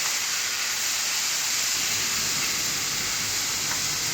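Green pepper and onion sizzle steadily in a hot pan for a steak and cheese burrito, a constant hissing spray with no pauses and no talk.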